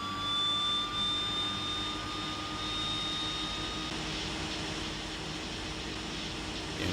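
Left engine of a DHC-6-100 Twin Otter turboprop starting while the right engine already runs, a steady loud turbine roar and whine with a faint high tone rising at first, close and continuous.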